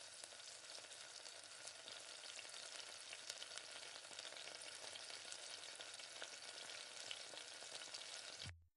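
Tomato kara chutney cooking on a hot pan, a steady, close hiss of frying that runs continuously before cutting off abruptly at the end.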